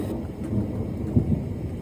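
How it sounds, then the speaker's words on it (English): A thunderstorm blows through, heard as a steady low rumble of rain and wind with a couple of louder thunder swells near the end, no voices. "we just had like the most incredible storm just blow through here"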